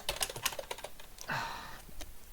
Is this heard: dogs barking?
no